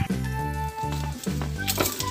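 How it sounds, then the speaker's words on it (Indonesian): Red bird's eye chilies, curly chilies and tomato frying in hot oil for a sambal, a steady close sizzle with brief stirring bursts and no talk. "berikutnya kita masukkan cabai rawit merah cabai keriting dan tomat ini kita goreng hingga"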